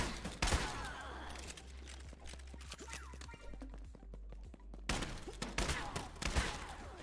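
Weapon fire from the video game My Pet Hooligan cracks in dense, rapid bursts of close shots, with heavier volleys at the start and the end. A voice talks over parts of it.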